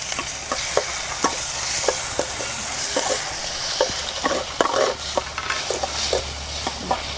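Tomatoes frying in a couple of spoons of oil with onion and green chillies in a village kitchen, a steady sizzle broken by frequent scraping stirs of a spoon against the pan, close and continuous, with no talking.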